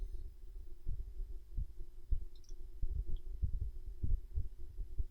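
Computer mouse clicks sound in a steady series, soft dull taps repeating roughly every half second against a faint hum, close and quiet with no talking.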